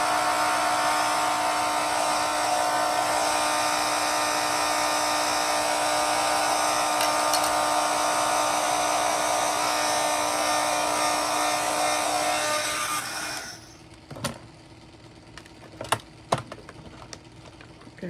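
A dryer blows steadily to dry resin on a recycled canvas craft with an oyster shell flower. Its even rushing whir runs for about thirteen seconds, then cuts off, leaving a few faint clicks and taps.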